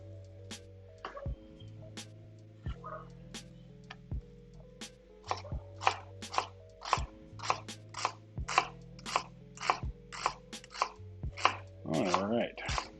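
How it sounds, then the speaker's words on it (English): A knife chops an onion on a cutting board in a steady run of about a dozen crisp strikes. The chops are close but fairly soft, over a low constant hum. "again, standard chopping procedure."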